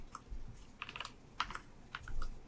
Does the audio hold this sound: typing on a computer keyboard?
yes